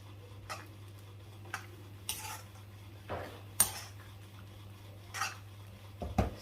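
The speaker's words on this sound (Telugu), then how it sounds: "సో సాల్ట్ యాడ్ చేసేసి ఒక్కసారి కలిపేసుకొని" Bambino vermicelli being stirred with salt in a metal pot, heard as several separate, fairly soft clinks and scrapes of a spoon against the pot over a steady low hum, with no voices.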